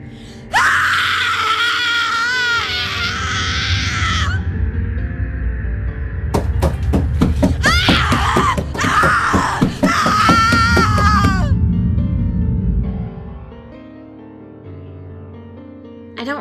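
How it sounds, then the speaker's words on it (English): A woman screams in a horror setting, with long wailing, anguished cries that rise and fall, then sharp, choppy bursts and more wails, loud and close rather than distant, before fading to a low hum. "I heard her screaming from far away."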